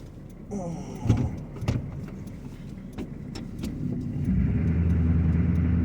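A 1988 GMC Sierra pickup on worn, dry-rotted 20-year-old winter tires is shifted into four-wheel drive, with clunks and a few sharp knocks before a steady low engine drone swells and holds.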